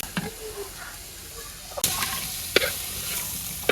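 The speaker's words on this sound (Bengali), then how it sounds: "শাকের সাথে পেঁয়াজটা টালিয়ে নিতে আছে" Leafy greens and onion are stir-fried in a pan, a steady close sizzle broken by a few sharp scrapes and clatters of the stirring utensil, with no voice.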